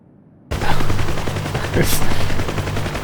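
Automatic gunfire in the DCS flight simulator game, a dense rattling burst starting abruptly after a short silence and continuing steadily over a low engine drone.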